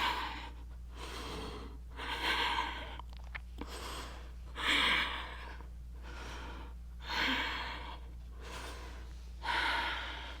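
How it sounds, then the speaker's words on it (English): A person takes a series of deep breaths in and out while holding a strong core yoga pose. The breaths come in five slow, even cycles, close and fairly soft, with a low steady hum underneath. "5 deep breaths"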